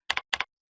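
Two quick double-clacks of keys on a computer keyboard, close and crisp, entered while editing a Google Site, each pair of strokes separated by a short pause and then silence.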